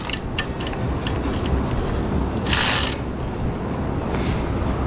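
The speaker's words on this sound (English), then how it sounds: "I'm going to take these 3/8 bolts out with a 10mm wobble" Ratchet fitted with a 10mm wobble extension working 3/8 bolts on the rotor of a Miller Bobcat 250 welder, with a steady mechanical churn and a few short clicking bursts and one longer rasping run in the middle.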